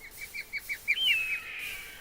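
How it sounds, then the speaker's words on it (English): Eagle cry in Minecraft as the bird flies overhead: a run of short chirping calls rising into one long piercing screech that fades out, clear and alone. "As an eagle goes over my head, very loud in my ears."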